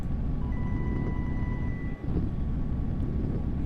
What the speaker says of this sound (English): The rocket is somewhat loud